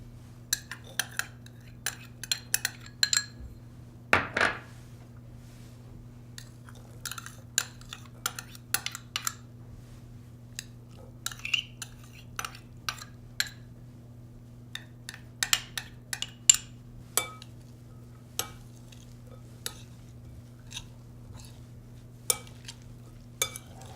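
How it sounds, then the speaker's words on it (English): Pico de gallo ingredients gently mixed in a bowl, heard as scattered light clinks and taps of a utensil against the bowl, irregular and close, over a low steady hum with no voices. "take all the prepared ingredients and gently mix them together in a bowl"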